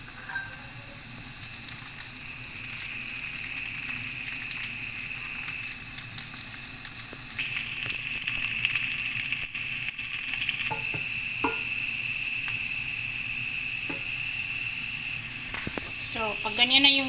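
Carrots frying in hot oil in a pan for rice bukhari, a steady soft sizzle and hiss running throughout, with a voice talking over it and a few utensil clinks.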